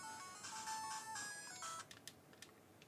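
A short computer notification chime rings out with bright tonal beeps, followed by a few faint, quick clicks in a quiet room.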